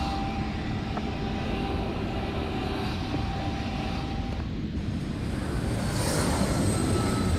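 A BAE146 airliner touching down in the X-Plane 12 flight simulator gives a steady, broad jet-engine roar with a faint whine, holding level throughout and swelling slightly toward the end.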